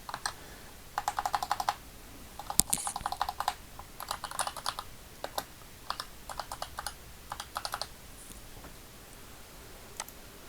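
Computer keyboard typed in quick bursts of crisp, close clicks separated by short pauses, with a few isolated taps toward the end and no voices.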